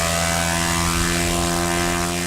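A radio-controlled model airplane flies nearby, its small propeller engine holding a steady, loud buzzing whine throughout with no break.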